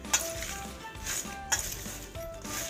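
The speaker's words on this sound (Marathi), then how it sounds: "1-2 चमचे मीठ आपल्याला ह्याच्यामध्ये घालायचं आहे. आणि हे छान असं आपल्याला याला लावून घ्यायचं आहे." Salt being mixed into raw mango pieces for pickle, heard as quiet, close clinks and scraping of a spoon against a dish in short bursts, with no voices.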